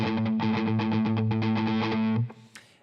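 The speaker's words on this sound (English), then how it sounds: "you pedal on the open A string" Distorted electric guitar playing a steady 16th-note pedal tone on the open A string, chugging loud and close in an even rhythm for about two seconds before cutting off.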